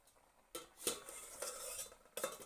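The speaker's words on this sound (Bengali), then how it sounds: "আর আমি রান্না করছি" A pot is stirred during home cooking, with a few scraping, clinking strokes of a utensil against the metal. The sound is soft and close, with quiet gaps between the bursts.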